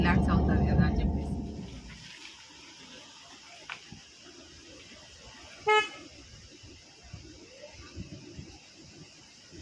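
A vehicle horn honks briefly at a distance on a street, a short toot cutting through quiet ambient background after louder traffic noise fades early on.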